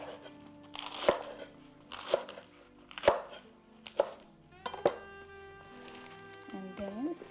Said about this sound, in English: I have washed and dried 2 romaine lettuce. We'll roughly chop them.